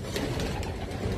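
John Arden pigeons, a breed of racing pigeon, coo softly in a cage over a low background rumble, with no voice heard.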